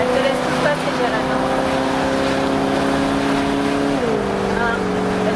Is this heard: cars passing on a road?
yes